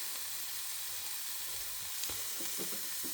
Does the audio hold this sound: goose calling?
no